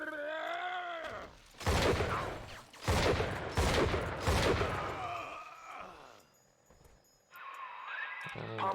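Bioshock 2 shotgun fire comes as four heavy, evenly spaced blasts, each followed by a short decay, with groaning tones and game sounds between them.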